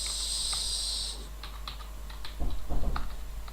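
Rapid clicking keystrokes on a new computer keyboard, close and fairly faint, in irregular bursts of taps over a steady low hum, with a brief hiss at the start.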